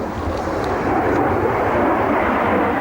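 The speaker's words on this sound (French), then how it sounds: "Hop, ça décolle" A SEPECAT Jaguar jet aircraft taking off, its engines producing a loud, continuous broadband roar that stays steady and close throughout, with no voices over it.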